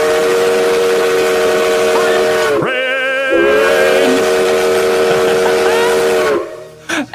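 A loud, sustained steam train whistle sounds as a Twitch hype train alert, holding a steady pitched tone. It briefly drops out, then returns and blows on for several seconds before cutting off abruptly.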